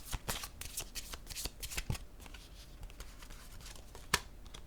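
Playing cards are handled and shuffled up close in a rapid, uneven run of crisp flicks, riffles and taps. One sharper snap comes near the end, and there is no talking.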